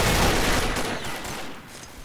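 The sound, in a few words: Legion gun firing in the video game Combat Arms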